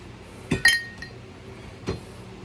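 Glass objects clinking: one sharp ring followed quickly by a brighter ringing clink, then a fainter tap, and a final dull knock, all close and isolated in a quiet room.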